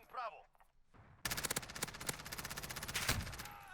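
Rapid automatic gunfire from a Modern Warfare first-person shooter match, a sudden loud burst of closely spaced shots running continuously for a few seconds after a brief quiet stretch with faint sounds.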